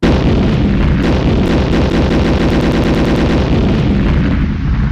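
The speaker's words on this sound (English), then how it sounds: "Heavy artillery, dude." Heavy artillery and gunfire effect: a dense, continuous barrage of rapid booming blasts and machine-gun-like bursts, loud and unbroken throughout with no speech.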